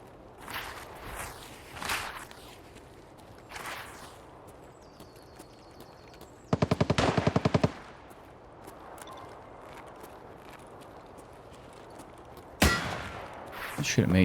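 A rapid burst of automatic gunfire in Escape from Tarkov, a tight string of loud shots lasting about a second, set among footsteps and other scattered thumps of movement.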